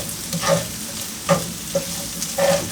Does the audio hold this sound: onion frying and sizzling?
yes